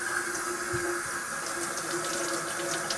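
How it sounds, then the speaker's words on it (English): Warm water running steadily from a tap into a sink, a continuous close splashing stream with no talking. "I'm going to just get some warm water going here"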